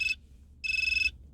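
Trackme app alert notification: two short bright electronic chirps, the second longer, sounding clear and alone over a quiet background.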